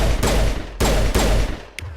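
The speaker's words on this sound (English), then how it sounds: "Use the shotgun." A shotgun firing in the video game Mass Effect, with three loud, booming blasts about half a second apart, up close and heavily layered with other game noise.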